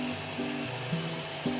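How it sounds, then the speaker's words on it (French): Wooden spinning top being sanded on a lathe, heard as a steady whirring machine drone with small rises and dips in pitch as the sanding touches the wood, close and with no speech. "un petit coup de ponçage"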